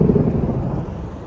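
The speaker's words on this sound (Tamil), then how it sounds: "அடை மழை பெய்கின்றது மக்காவிலே." Heavy rain and rolling thunder in Mecca near Mount Noor, a loud, deep rumble over steady rain hiss that slowly fades across a short stretch, no voices.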